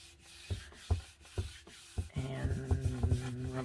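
Paper is rubbed down by hand over stencils laid on a gelli plate, giving rhythmic scraping strokes, with a faint ringing tone and more rapid rubbing toward the end.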